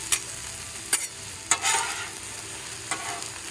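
Mushrooms, squash and zucchini sizzle steadily on a hot griddle, with a few sharp spatula scrapes and clicks breaking through the constant frying hiss.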